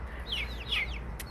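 Rhode Island Red chickens indoors making two soft, rising chirpy clucks in quick succession, followed by a brief sharper call, faint over low household background hum.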